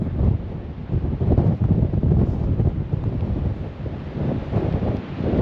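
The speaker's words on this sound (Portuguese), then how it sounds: "É muito vento." Strong gusting wind buffets the microphone on the Portuguese coast, a loud continuous rumbling roar with surf-like surges and no talk.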